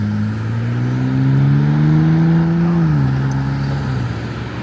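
A Ford Raptor pickup truck drives along a country road, its engine droning steadily as the pitch climbs gradually, holds, then drops after a gear change, loud and close with no talking.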